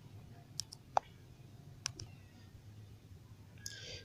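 A computer mouse clicks a few times, sharp and isolated, against a quiet room hum with brief gaps between the clicks.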